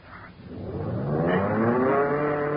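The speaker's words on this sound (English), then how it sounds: "The engine. We started again." A car engine starting and revving up in an old-time radio drama sound effect: a steady rising motor drone with climbing harmonic whine, loud and continuous, with no voices over it.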